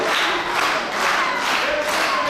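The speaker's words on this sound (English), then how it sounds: "the crowd really getting behind Delmi" A wrestling crowd roaring and cheering for Delmi during an Atomic Championship Wrestling women's match, a loud continuous wall of shouting voices that swells in waves.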